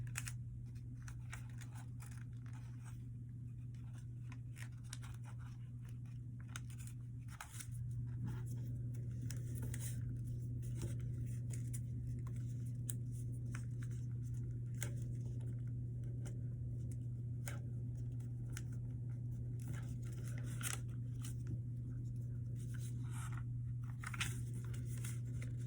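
Paper being creased and folded by hand for an origami fighter jet, soft intermittent crinkles and taps close up over a steady low hum, with no talking.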